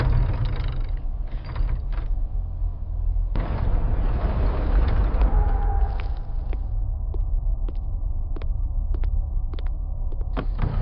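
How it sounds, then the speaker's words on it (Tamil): A door in an enchanted forest hideout creaks open by itself, a slow, drawn-out mechanical creak over a low throbbing hum, with sharp ticks and clicks scattered along its length, close and steady, no voices. "கை கூட வைக்கல அர்ஜுன், அதுவே தானா திறக்குது."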